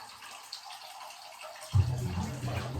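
Water is poured into a cup over a vanilla and manuka honey tea bag, starting as a close, steady gushing stream partway through after a quiet moment.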